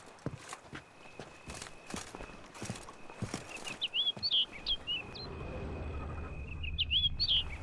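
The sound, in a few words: bird call in The Witcher 3 video game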